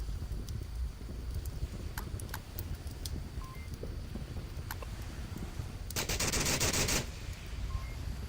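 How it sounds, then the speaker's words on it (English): Gunfire sounds out in a competitive match of the VR shooter Onward: scattered single shots and short bursts, then a denser burst of rapid fire that fades, all fairly faint against a background hiss. "Shots fired."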